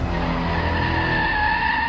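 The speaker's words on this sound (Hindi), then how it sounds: "सोहम ने अचानक से ब्रेक लगाई" A car braking suddenly on the Mumbai Pune Expressway, its tires skidding in a loud, sustained screech that holds steady for a couple of seconds, up close with no other sound.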